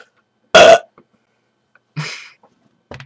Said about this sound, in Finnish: Tee vielä se röyhtäys sieltä päälle.